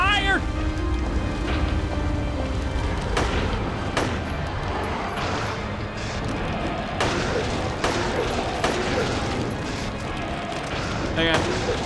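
Rapid bursts of gunfire from a Silent Hill-style horror video game, dense and loud, crackling over a busy, rain-like background throughout.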